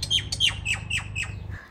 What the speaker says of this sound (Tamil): பாருங்களேன், இப்போவே அந்த மைனா எப்படி சத்தம் போடுதுன்னு